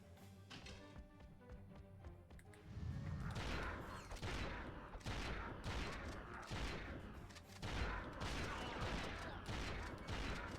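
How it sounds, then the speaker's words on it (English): The Blitz gun firing in the PS2 game Ratchet & Clank: several sharp bursts that repeat at uneven intervals, fairly loud over a low game background. "Blitz gun."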